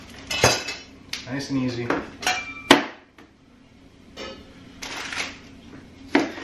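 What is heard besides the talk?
chopping vegetables in half with a knife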